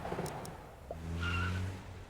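Car in the video game Walk of Life driving past, a brief tonal engine hum with a short squeal rising over background game ambience, fairly faint and alone.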